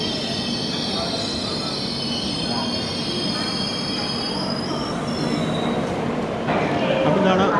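The Kerala Express rolls into Warangal station with loud, sustained wheel squeal and rumbling carriages, metallic screeching running throughout while a voice talks faintly underneath.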